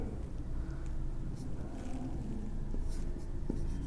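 Chalk or marker strokes on a classroom board during a Class 6 maths lesson, soft scratchy writing scrawled in short bursts, close and moderately quiet, with faint background hum and no talking.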